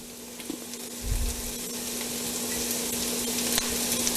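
Carrots dropped into a hot pan with vegetables, a thump followed by a steady, close sizzle of frying that holds evenly throughout.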